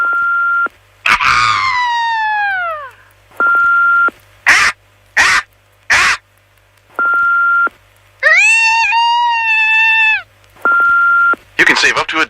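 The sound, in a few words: people imitating a bald eagle's call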